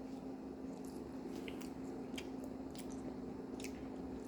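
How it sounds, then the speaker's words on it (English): Someone close by bites into and chews a grilled cheese sandwich made with melted American cheese, giving soft, wet, squishy mouth sounds at an irregular pace over a steady low hum, with no talking. "I'm gonna eat that."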